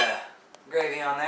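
Knife and fork scrape and clink against a plate while cutting into country fried deer steak, close and fairly loud, with a brief sharp tick midway.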